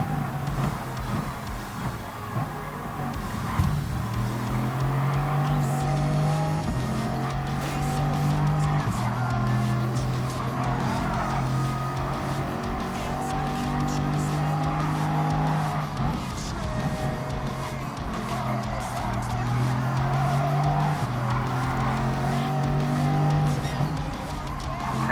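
A Bugatti Veyron racing at high speed, its engine droning loud and steady with rising and falling revs, tire squeal mixed in, close and continuous throughout.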